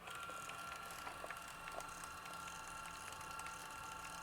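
A Brother PT-H105 handheld label printer feeding out a label gives a faint, steady mechanical whir with a soft ratcheting buzz and a few small clicks, heard alone and close.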